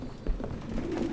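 A low, soft pigeon coo rolls through a bird-filled apartment in Detroit: Become Human, quiet and brief, a few murmuring pulses with no talking.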